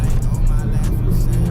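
A car circles a race circuit on its first laps of the track, its engine a steady, loud low drone that holds throughout the short stretch with no pause.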